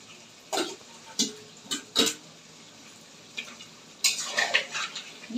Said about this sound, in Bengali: দিয়ে ভালো করে মিশিয়ে নিচ্ছি।